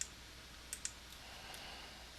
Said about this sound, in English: So clicking that ellipse button allowed me to search.